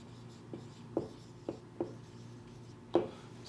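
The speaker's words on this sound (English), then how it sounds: "let us write here the formula" A formula is written out by hand, with a handful of distinct pen or marker strokes and taps spaced irregularly across a quiet background.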